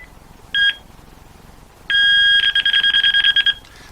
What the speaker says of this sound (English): That's what the ring sounds like.